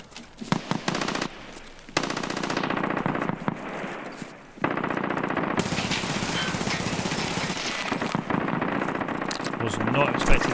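Rapid bursts of automatic gunfire ring out in an Escape from Tarkov–style survival shooter match on a dorms map, dense and continuous with brief pauses, mixed with game ambience and a voice speaking over it.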